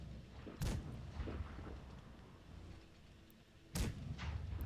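A tank cannon fires twice in World of Tanks Blitz, two sharp booming blasts a few seconds apart over a low, steady battle rumble, heard at moderate volume from the battlefield.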